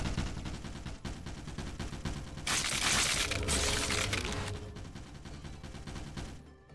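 Guns firing in a battle in Lobotomy Corporation, dense continuous crackling shots under a busy mix, swelling louder midway before easing off.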